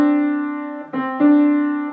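Two piano notes a step apart ring out one after the other, the second struck over the first's sustained tone, clear and close.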